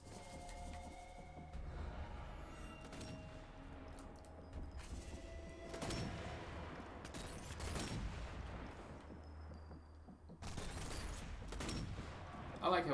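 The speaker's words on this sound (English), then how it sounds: "I like how we're just shooting near each other." Gunfire in Sniper Elite 4: repeated shots and bursts over continuous game ambience, some sharp reports standing out, with people talking throughout.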